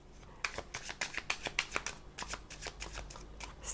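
Oracle cards being shuffled for a reading, a quiet, close run of crisp flicking riffles in uneven bursts, with no speech.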